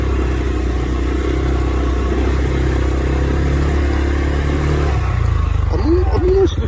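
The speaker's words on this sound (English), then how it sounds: "That bit's a bit tight for this quad bike." A quad bike engine revs and labours on a tight woodland track, a loud close mechanical drone with a clattering undertone, dropping in pitch near the end.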